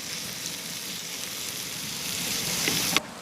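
Onions sizzle and fry in a pan for a pheasant curry, a steady close crackling hiss with a brief stir or clatter near the end.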